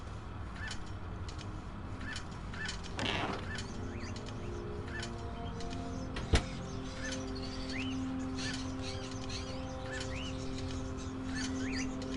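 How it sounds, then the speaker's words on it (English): Repeated bird chirps and tweets from the video game Indigo Prophecy, short calls recurring every second or so over a steady background ambience, with one sharp click partway through. "The bird is such a unique animal."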